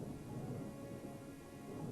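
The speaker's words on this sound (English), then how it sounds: "Thunder rolled. Lightning flashed." Rolling thunder with steady rain noise, a continuous low rumble filling the background, moderately loud and broad without any voices.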